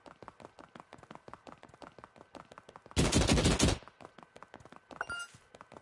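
A sniper rifle fires in the PS4 game Dreams, one loud, harsh blast bursting out over a fast, regular ticking of light taps, then a smaller sharp crack shortly after.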